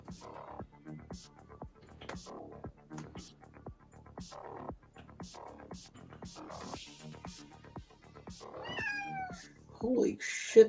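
A chatty cat meows repeatedly at night, with a few rising, drawn-out cries near the end, while people talk throughout over steady rhythmic tapping.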